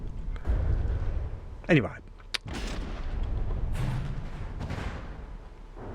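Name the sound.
pom-pom gun HE explosions from video game From The Depths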